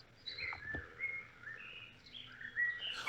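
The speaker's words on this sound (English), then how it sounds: "I think your microphone is picking up a lot of stuff between the fan and the birds and everything." Birds singing outdoors near a fan, a series of thin chirps and whistled calls at moderate distance over a low steady hum, with no talking.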